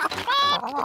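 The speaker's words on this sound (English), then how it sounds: "Peppa, George, would you like to feed corn to the chickens?" Cartoon chickens cluck in a farmyard scene from the Peppa Pig series, a short run of bright, close clucks and squawks with no talk over them.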